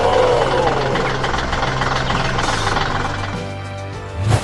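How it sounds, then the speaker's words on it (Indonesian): A harvester machine's engine running steadily, a loud, close, continuous mechanical drone with a low rumble and a brief louder clank at the end. "Itu adalah mesin pemanen"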